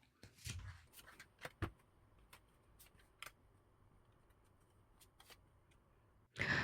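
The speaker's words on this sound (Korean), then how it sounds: "4번 분들 2주간에 어떤 일이 일어날지 카드 뽑아보겠습니다" Tarot cards shuffled and drawn by hand: a burst of riffling flicks near the start, then scattered single card snaps and slides, and a louder rustling sweep at the very end, close and quiet with no talking.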